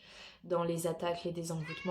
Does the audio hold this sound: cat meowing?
yes